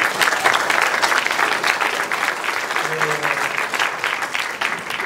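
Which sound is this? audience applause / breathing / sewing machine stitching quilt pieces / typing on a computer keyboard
audience applause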